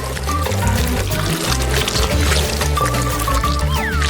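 Hot chocolate poured into a cup, heard as a continuous close liquid pour running throughout at strong volume, with faint background sounds and no clear speech.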